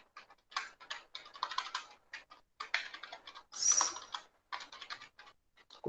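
Rapid, uneven typing on a cheap, poor-quality computer keyboard during a lecture, with close-up clacking keys coming in bursts and short pauses, plus one brief higher-pitched squeak in the middle.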